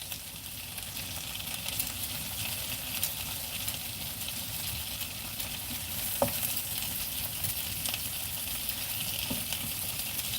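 Sausages fry in a pan, a steady dense sizzle and crackle holding at an even level throughout, close and fairly loud, with an occasional sharp pop and no voices.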